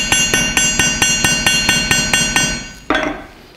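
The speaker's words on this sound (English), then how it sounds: "when you hit metal with a hammer or anything else to it, it becomes hard" Repeated hammer blows on sheet metal being curved in a metalworking studio, about eleven steady ringing strikes at an even rhythm, close and loud, followed by one final heavier hit after a short pause.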